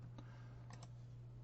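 A few sparse keystrokes on a computer keyboard, faint clicks spaced out over a steady electrical hum, with no voices.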